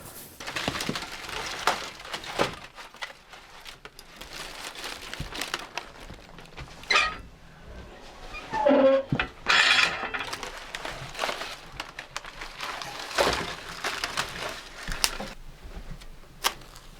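Small wood stove being readied for a fire on a frosty night: close crinkling, snapping and clattering of kindling and paper in bursts, with intermittent knocks and rustles and no speech.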